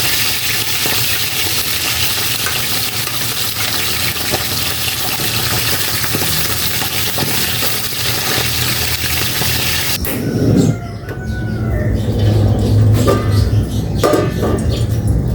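Food hisses and sizzles hard in hot cooking oil, a loud, dense crackle that suddenly drops away partway through, leaving quieter clatter and low rumbling.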